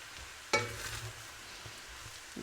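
Chicken fried rice with soy sauce, vinegar and fish sauce is stirred in one pan, a soft scrape and low sizzle with a brief clatter of the utensil, fairly quiet throughout.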